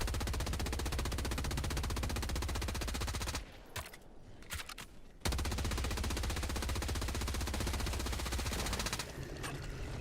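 Weapon fire in Helldivers 2, a dense sustained burst of automatic shots, loud and close, broken by a brief pause before the firing resumes.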